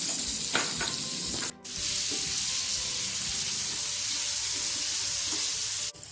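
Tomato with turmeric and salt frying in a pan for chena kofta, a loud continuous sizzle with stirring scrapes near the start and a couple of brief breaks.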